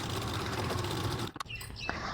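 A sewing machine stitches along a blouse belt with a fast, continuous whirring hum, then stops abruptly and leaves a few faint clicks and handling sounds.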